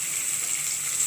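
Red capsicum sizzles steadily while frying in a pan, a bright continuous hiss that stays even and fairly loud for the whole short stretch, with no voices.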